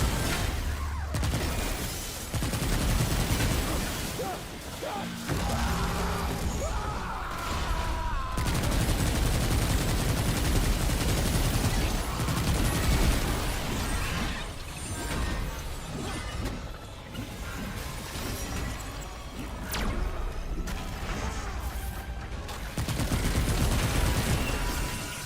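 Cube gun blasting continuously in Remnant 2, a dense, loud stream of rapid shots with crashing impacts and bursts, running almost without pause through a hectic fight.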